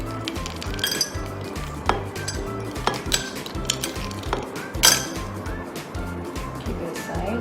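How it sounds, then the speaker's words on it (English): Ice cubes clink against glass while a sweet watermelon and tapioca pearl cooler is assembled, several sharp bright chinks scattered over a steady low hum, with faint voice in the background. "so I'm going to add some ice cubes too"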